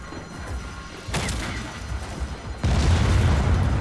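Explosions in the video game Just Cause 4: a deep boom at about one second, then a second, louder blast that lingers as a rumbling roar, with no talking over it.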